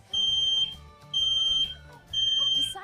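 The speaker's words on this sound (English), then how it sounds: "my fire alarm goes off right now" A household smoke alarm sounds in three loud, shrill beeping bursts of about half a second each, separated by short pauses, with faint room noise in between.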